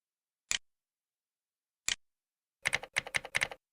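Someone types on a computer keyboard: two isolated key presses a second or so apart, then a quick burst of several keystrokes, crisp and close in an otherwise silent room.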